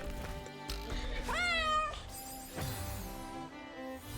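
A cat meows several times in a room, sliding up in pitch, while game music and sound effects from Celeste play steadily underneath.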